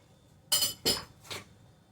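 Sieving flour for a homemade cake gives three short rasping shakes of a metal sieve, close by, with brief pauses between them and no speech.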